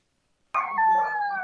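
Sled dogs howl at the start of a race stage in fresh snow, a sudden loud, sustained howl that breaks in after silence and holds steady, close and clear.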